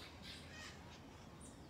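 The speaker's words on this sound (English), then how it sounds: "The birds are having breakfast." Crows caw and squawk in the Botanical Gardens in the early morning, with several calls that carry at a moderate distance over steady outdoor ambience.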